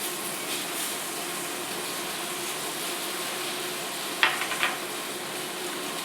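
Food fries in oil in a pan, a steady soft sizzle hissing continuously throughout, with a couple of brief clinks or scrapes near the end.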